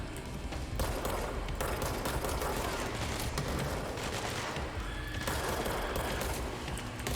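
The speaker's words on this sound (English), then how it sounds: "It's like we're shooting at somebody over here." Video game gunfire crackles in dense, continuous bursts that sound like rapid automatic fire, loud and unbroken throughout, with booms and noise layered underneath.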